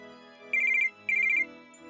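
A telephone ringtone gives two short warbling electronic rings, one after the other, clear and close over a quiet low background drone.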